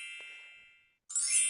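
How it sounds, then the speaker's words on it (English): A bell rings twice in a homemade mini game as a dolphin mother reaches her calf and a point is scored, giving a bright ding that decays, a short pause, then a second louder, shimmering chime. "a bell rings and a point add to the score"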